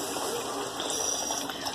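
Water running from a kitchen tap during meat seasoning, a steady close hiss and splash that flows unbroken and alone.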